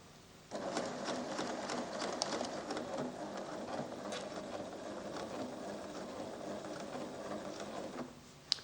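A 1987 Pfaff creative 1471 sewing machine sewing tie-off stitches, a rapid mechanical whir and clatter that starts abruptly, runs steadily at close range, then stops with a click, with no voices.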